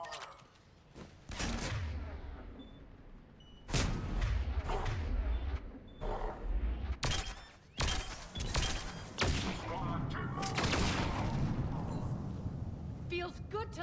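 Heavy gunfire erupts in a Mass Effect 3 firefight, loud repeated shots and bursts with impacts, mixed with in-game voices.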